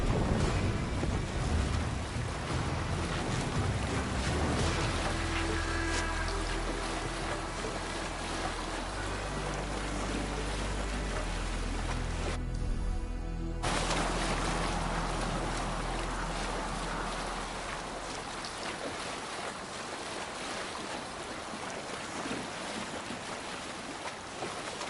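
A sailing ship moves over open water in a video game, with a steady wash of waves and wind rushing around the hull, loud and continuous, and a brief dip partway through before the surge resumes.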